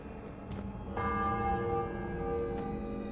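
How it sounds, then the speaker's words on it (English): Church bell ringing in the video game Spider-Man: Web of Shadows, a single loud struck tone that blooms into a long sustained metallic hum over a low ambient bed, with a couple of soft clanks around it. "They come to get at the parishioners inside, but then I ring the bell."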